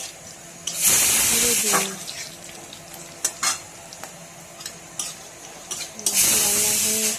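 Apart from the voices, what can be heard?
whole spices sizzling as they are added to hot oil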